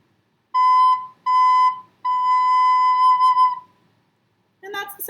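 A recorder sounds the note B: two short toots, then one longer held tone, clear and steady with brief gaps between. A voice starts at the very end.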